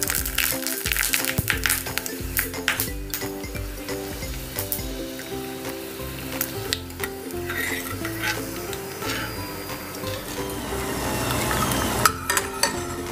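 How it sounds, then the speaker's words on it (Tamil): Dried ivy gourd (kovakkai vathal) frying in hot oil in a pan, a steady dense sizzle with stirring and occasional utensil clinks throughout, close and continuous with no talk. "நம்ம இதில் கொஞ்சம் கொஞ்சமாக போட்டு ஃப்ரை பண்ணிக்கலாம்."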